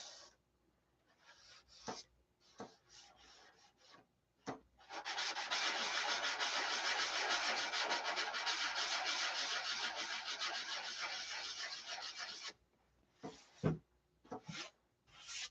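Sandpaper rubs steadily over a light wooden fishing float, a long continuous scratchy stretch of about eight seconds framed by short, separate rubbing strokes before and after.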